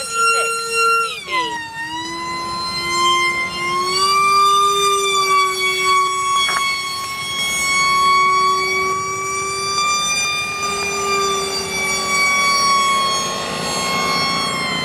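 A steady, loud, tonal wail, like a siren, sounds for the whole clip after a brief pitch drop near the start, and comes from an aeromodelling aircraft's battery timer alarm signalling time to land.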